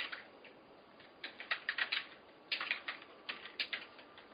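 Computer keyboard typing, quick bursts of clicking keystrokes in irregular clusters, close but fairly quiet, with no voices.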